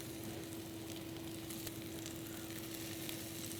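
Bell peppers sauté in a hot pan with spring onion and fried garlic for Indo-Chinese chop suey, giving a steady, even sizzle that stays close and constant throughout, with a faint low hum underneath.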